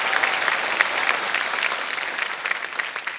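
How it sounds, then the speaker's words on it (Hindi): Studio audience on the KBC game show applauds steadily, a dense, even wash of many hands clapping that holds at full strength throughout with no talk over it. "एक बार फिर तालियों के साथ हम इनका अभिनंदन करते हैं,"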